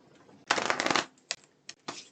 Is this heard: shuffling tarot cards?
yes